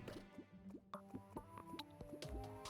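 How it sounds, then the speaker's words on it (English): Small watery splashes and drips while fishing in Terraria, a soft run of irregular plops and squishy droplets at low volume, repeating several times with no talk. "stop splish splashing? It's distracting."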